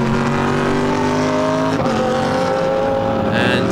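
GT race cars, among them an orange G-Drive Lamborghini, roar past on the Algarve circuit during a practice session, a loud sustained engine note with a brief gear-change dip, under steady trackside noise.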